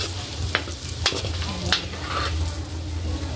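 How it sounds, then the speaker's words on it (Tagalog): Salt and black pepper being stirred into food in a frying pan, with a few sharp utensil scrapes over a steady low sizzle, close up and moderately loud. "Haluin po."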